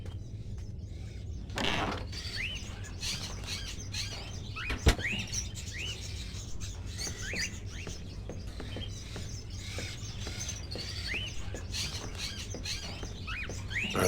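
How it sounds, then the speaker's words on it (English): Caged crows in an indoor scene from the video game Fahrenheit: Indigo Prophecy, giving repeated short chirps and caws over a steady low hum, with a sharp click near the middle. "Are those crows in the cages?"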